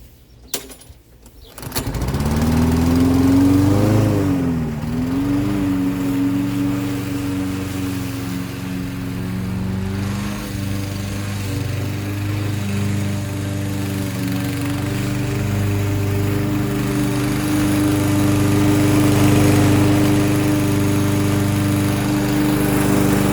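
A Toro 6.75HP 149cc lawn mower starts up and then runs loud and steady while cutting dandelions, its engine drone dipping briefly under load and holding a constant close roar throughout.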